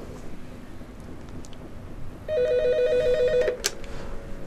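A telephone rings for a viewer's call-in to a TV programme: a single steady electronic ring burst lasting about a second, over low studio hum and followed by a brief click.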